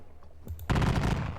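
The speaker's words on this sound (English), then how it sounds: "We are going to get a volley." A loud volley of massed musket fire from a Napoleonic battle wargame on the Russian campaign erupts suddenly after a brief lull, a dense crackling burst that keeps rolling to the end.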